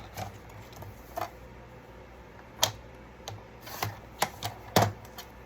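Scissors cut paper for an accordion flipbook in a series of sharp, irregular snips and clicks, close and fairly quiet, with faint background hiss between them.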